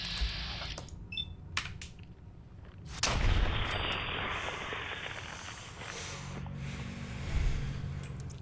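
Gunfire from a gun in Fallout 4: a burst of loud, broadband shots around the middle, preceded by sharp clicks and followed by a sustained rumbling wash, with no talk.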